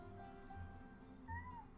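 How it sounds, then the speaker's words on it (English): A house cat meowing nearby, a couple of short plaintive calls with a rising-and-falling pitch, fairly quiet over a soft background. "What are you meowing at?"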